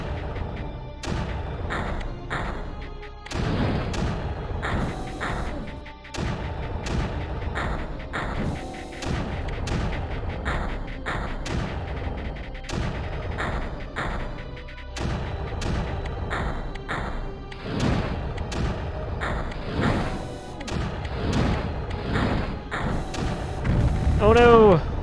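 Blaster units in Creeper World: AE firing steadily, a dense run of repeated thumping booms and crackling impacts layered with game effects, loud and continuous throughout.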